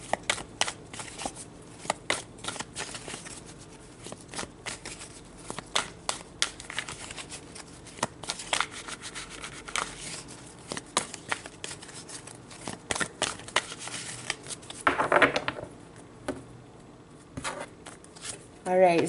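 Tarot cards are shuffled by hand in repeated soft riffling and slapping bursts, close and fairly steady, with a brief louder flurry near the end.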